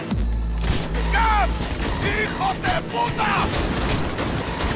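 In Cyberpunk 2077, gunfire bursts out while leaning from the window of a moving car, sharp repeated shots over a low engine rumble, with characters shouting urgently between the bursts.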